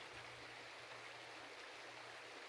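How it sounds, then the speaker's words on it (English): A river rushes below a bridge as a steady, broad wash of flowing water, constant and soft with no other sounds. "The sound of the river rushing below me echoes in my ears."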